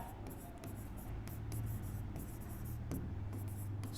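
Pen scratching steadily on paper or a board during a Class 10 circles maths lesson, a close, continuous rasp of short strokes with brief pauses, heard alone without talk.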